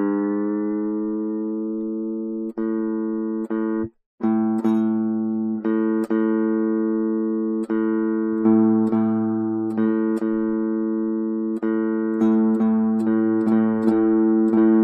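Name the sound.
guitar notes played to tune the open A string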